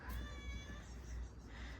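A cat meows close by, one drawn-out, wavering cry under a steady low hum, quiet and brief.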